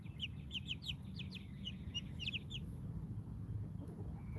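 Speckled Sussex chickens give soft, quick clucks and chirps in a quiet shed, a run of calls in the first half that thins out into low background hum.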